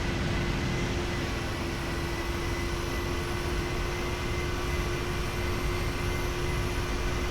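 Boeing 737 engines spooling at takeoff thrust inside a flight simulator game, a loud, steady broadband roar with a fixed whine running through it, unchanging and alone for several seconds.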